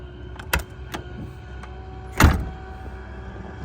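A Freightliner cabover truck door swings and thuds shut with a solid, heavy close, preceded by a lighter latch click, set against a low steady background hum.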